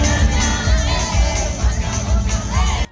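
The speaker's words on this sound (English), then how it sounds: "The crowd cheered, laughed and danced," A dense crowd at a China-Africa dance battle event cheers and shouts loudly and continuously, many voices overlapping close by before cutting off abruptly at the end.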